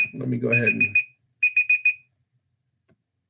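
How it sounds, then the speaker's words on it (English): A timer alarm beeps in quick electronic bursts, one group cut into by a person talking and a second group of four beeps heard alone, loud and close. "Oh, there's my timer."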